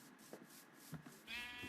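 A Minecraft sheep bleats, with a couple of short soft bleats followed by a longer, wavering one, fairly quiet against a calm background.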